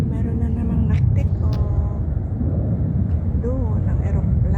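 Airplane flying overhead along a waterfront promenade in Tung Chung, Hong Kong, a loud steady low rumble throughout with a person talking over it.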